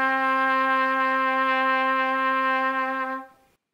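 A single sustained trumpet note D, the second step of a C major scale on a beginner jazz trumpet, held steady and clear for about three seconds before cutting off, played alone with no talking.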